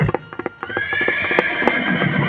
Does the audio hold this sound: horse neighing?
yes